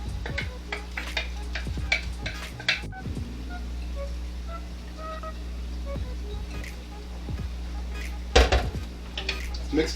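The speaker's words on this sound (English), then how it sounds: "Mix that rice in so we can start giving that some flavor." A spoon scrapes and clinks around a pot as rice is stirred into chicken jambalaya, irregular metallic taps and scrapes over a low kitchen hum, with a cluster of louder knocks near the end.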